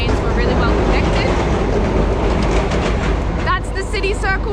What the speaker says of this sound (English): That's the City Circle tram, really loud.